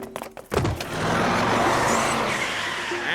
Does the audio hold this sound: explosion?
no